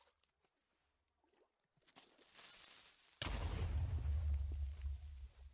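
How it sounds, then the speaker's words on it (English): A creeper explodes in Minecraft version 1.6.4 near water, a sudden loud blast followed by a sustained deep rumble, preceded by a few faint clicks and a quieter burst. "is the explosion from the creeper"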